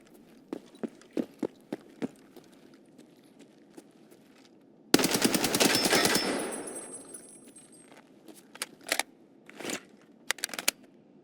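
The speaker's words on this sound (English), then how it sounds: "So that actually sounds like they're fighting in Goshen." Gunfire from a distant firefight in a hardcore survival shooter game near Goshen's medical tents: scattered single shots and short bursts, then a sustained loud volley of rapid automatic fire that trails off, followed by more sporadic cracks.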